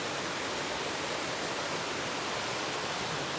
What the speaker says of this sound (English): Love this running water.